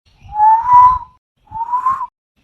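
A man whistles at a woman in two rising catcall notes, a longer one followed by a shorter one, clear and near over faint background rustle.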